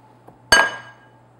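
A drinking glass pressed onto sugar-coated ginger cookie dough gives a single sharp glassy clink with a brief ringing tail, close and alone in a quiet kitchen.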